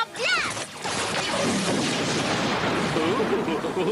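Ninja Blast attack effect from Power Rangers Ninja Steel, a dense, loud burst of crashing, blasting energy with swooshing sweeps, sustained for several seconds without a break.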